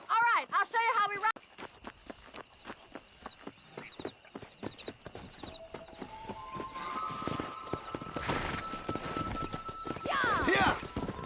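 Horse hooves clip-clop at a steady, quickening pace in the Red Dead Redemption game, close and continuous, with a whinny near the start and music or effects rising toward the end.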